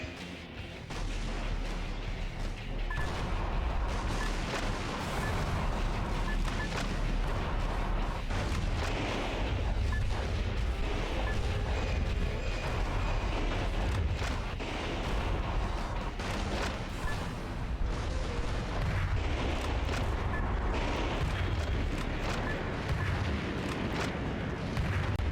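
M1 Abrams tanks in combat in the game Metal Wolf Chaos XD, a continuous din of booming cannon fire, explosions and gunfire layered densely over a heavy low rumble.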